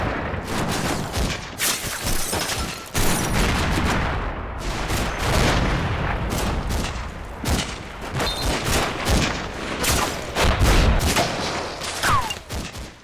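Rapid gunfire exchange between infantry and half-tracks in Combat Mission Final Blitzkrieg, on the approach to Aachen: dense overlapping rifle and machine-gun bursts with sharp cracks and heavier booms, loud and continuous throughout, with no voices.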